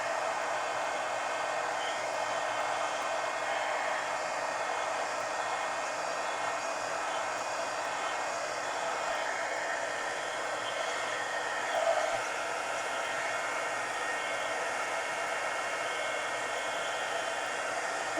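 A hair dryer blows steadily over freshly made mixed media collage cards, a constant broadband whoosh held at one level for the whole stretch with no talk over it.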